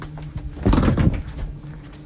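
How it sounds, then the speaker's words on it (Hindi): A door being opened, one close, loud creak and clunk of the opening near the middle, set against a low steady room hum, with no talking over it. "किसी ने दरवाज़ा खोला था"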